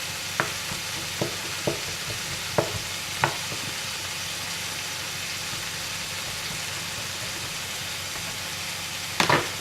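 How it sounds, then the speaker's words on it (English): Shiitake mushrooms and pork frying in a pan, a steady sizzle with several sharp clicks and scrapes of a utensil stirring against the pan. "So we're going to add our shiitake mushrooms in with the pork and cook those off together. Give that a stir."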